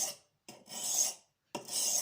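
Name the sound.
blade sharpened on oiled Norton India sharpening stone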